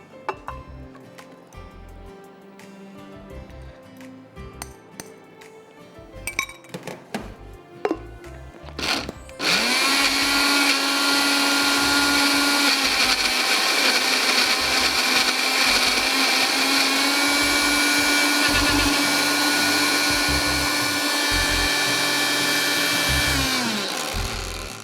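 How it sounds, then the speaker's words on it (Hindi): An electric blender whirs loudly and steadily as it purees mango into pulp, starting after several seconds of clattering and handling noise, then running continuously at an even pitch before spinning down near the end. "मैंगो को हमें बस ब्लेंड कर देना है"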